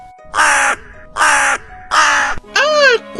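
A crow caws loudly and close, three harsh even calls followed by a fourth, higher and more tonal, each ringing out alone against silence as a sound effect in a telling of the crow and fox fable.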